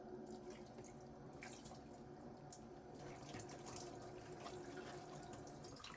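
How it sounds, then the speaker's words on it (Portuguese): Hot water runs and splashes steadily over lettuce and a small basket in a kitchen sink, a continuous close pour with faint dripping and no talk. "Eu já tenho uma aguinha quente aqui. Vou jogar aqui, deixar a cestinha junto"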